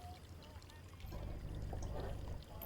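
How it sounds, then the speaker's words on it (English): Water pours in the video game Foolish Mortals, a soft splashing pour that comes in after a second and runs on quietly to the end. "I didn't need to pour water on that."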